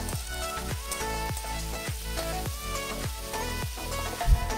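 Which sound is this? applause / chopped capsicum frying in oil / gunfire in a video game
chopped capsicum frying in oil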